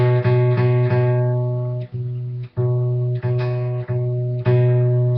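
An acoustic guitar rings out, fretted at the second fret of the fifth string, sounding sustained plucked notes and strums that repeat several times with brief gaps, clear and close with no talking.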